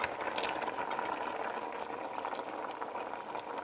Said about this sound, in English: put a lid on this and let it simmer until the carrots and the taro get tender